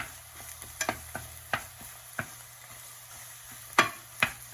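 Beaten eggs frying in oil in a pan for stir-fried noodles, a faint steady sizzle broken by scattered scraping and tapping of a utensil turning and breaking them up.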